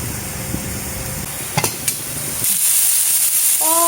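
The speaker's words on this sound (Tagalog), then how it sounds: "igisa ko lang yung konting pork" Pork that has already been boiled is sautéed in a pan with garlic and onion, giving a steady close sizzle with stirring scrapes and a couple of sharp utensil knocks, the frying hiss swelling louder near the end.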